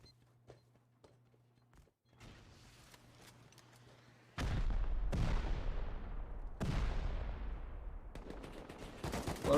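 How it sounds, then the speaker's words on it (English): Explosives going off during a raid in the video game Rust: several heavy booming blasts with long decaying tails, coming in quick succession after quieter scattered clicks and steps. "A lot of bombs going off"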